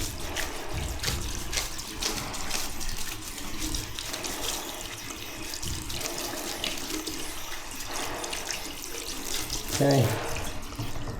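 Water runs steadily from a tap to rinse off a paint broom head, a continuous splashing gush with a brief spoken word over it and shifting spatter as the head moves under the flow.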